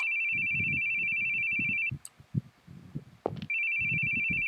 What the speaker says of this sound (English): I hate hearing phones ring.